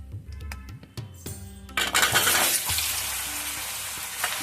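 Potatoes drop into hot oil seasoned with salt and turmeric, a few clinks and knocks giving way to a loud, steady sizzle of frying that fills the rest of the stretch.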